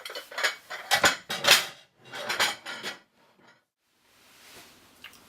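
Plates and dishes being handled and checked in holiday accommodation, giving several sharp clinks and clatters in quick bursts, close by, followed by a near-silent pause and a faint final rattle.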